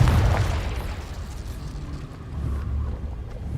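A Confringo blasting curse in the game Hogwarts Legacy, a loud low boom at the start that decays into a rumbling roar, swelling again slightly near the end.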